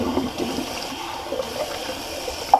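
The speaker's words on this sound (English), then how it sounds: "Just gonna empty my sink because it's full" A bathroom sink full of shaving water drains away with a low, steady gurgle and trickle, close by and fairly quiet, ending in a brief louder slurp.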